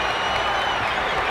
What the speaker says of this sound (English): Crowd's into this ball game.